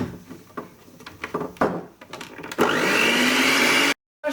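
An electric mixer whirs steadily through cake batter with a cup of milk just added, starting after some clattering and bowl knocks and running loud and even for over a second before cutting off abruptly.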